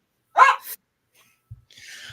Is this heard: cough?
no